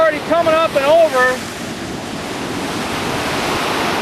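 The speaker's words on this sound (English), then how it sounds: "We're standing here at the Galveston seawall, about halfway down the island, and the water is already coming up and over" Hurricane-driven surf surges over the Galveston seawall, a continuous heavy roar of waves and wind buffeting the microphone, with a voice speaking briefly at the start before the rushing water carries on alone.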